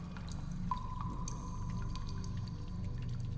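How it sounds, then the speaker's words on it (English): Faint, distant drips of water ring out a few times in an echoing space over a low, steady background hum. "You can hear the distant dripping of water from some unknown location"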